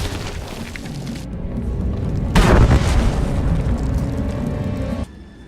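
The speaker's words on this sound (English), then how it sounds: "When they saw the tunnel explode around their lord" A tunnel collapses in an explosion in Star Wars: The Old Republic, a game: a loud, deep boom bursts out over a rumbling, sustained noise bed that continues and then cuts off abruptly.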